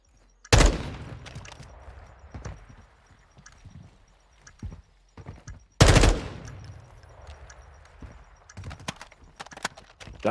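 Gunfire in an esports match of a tactical shooter, with two loud bursts of shots and scattered quieter reports between them, set against game ambience.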